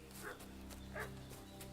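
A dog in a French-language adventure game gives a couple of short, mid-level barks over a steady game music and ambience bed, with no talk during the barks.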